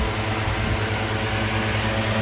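A household air cooler running steadily in a home, giving an even, continuous whirring hum with a broad airy rush and a low motor drone throughout, fairly close and with no talk over it.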